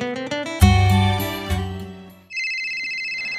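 A cellphone plays a melodic ringtone, a loud tune of bright bell-like notes for about two seconds, followed by a steady high electronic tone, with no voices.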